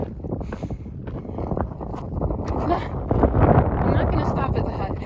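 Strong wind buffets a hiker climbing a mountain trail toward a hut on the Kungsleden, roaring and gusting steadily into the microphone with rising intensity.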